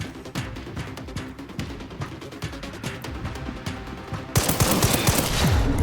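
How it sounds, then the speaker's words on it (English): Rapid Magnum gunshots ring out in Resident Evil Requiem, a dense run of sharp cracks that ends in a louder, sustained burst of fire with no talking. "Going up to literally any person and just shooting them."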